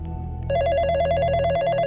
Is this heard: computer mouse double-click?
no